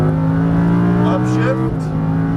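A Lamborghini Huracan LP610-4 engine pulls hard on a race track with a loud steady harmonic drone and a brief pitch dip near the end, while a voice talks over it.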